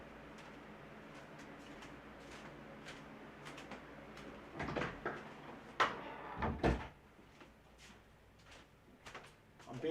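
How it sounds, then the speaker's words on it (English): A door being closed at home, with a cluster of knocks, bumps and clatter in the middle of the clip over low room noise, ending in a firm thud, one loud impact standing out among the smaller knocks. "I gotta close the door."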